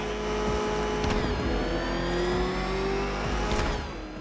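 A ramshackle vehicle motor in the video game Batman: Arkham Knight revs and drones steadily with rising pitch, loud and close, over a constant low hum, with no voices.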